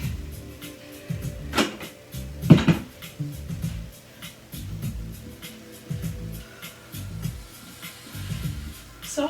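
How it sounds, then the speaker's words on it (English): A chair is shifted off an exercise mat during a seniors' stretching session, giving a few knocks and scraping thuds of varying strength over several seconds, with faint background noise. "I'm getting rid of my chair and coming back down to the mat."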